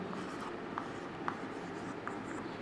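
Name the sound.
writing on a board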